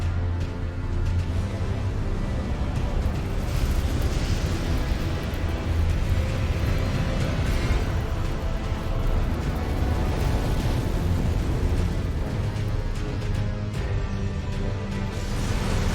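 Erd Tree burning in Elden Ring, a dense, steady roaring rumble like a vast blaze, loud and unbroken throughout with no speech.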